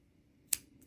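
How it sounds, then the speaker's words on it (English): One crisp snip of scissors cutting crochet yarn, a single sharp close cut in a quiet room, followed by a faint softer tick. "And then I'm going to cut."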